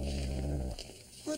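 Diefenbaker, a half-wolf dog, gives a low, rumbling growl up close, sustained for under a second before it trails off into quieter noise.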